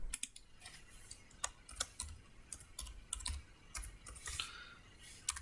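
Quick irregular clicks of fingers typing on a computer keyboard to name a new folder, close and fairly quiet, with short pauses between bursts of keystrokes.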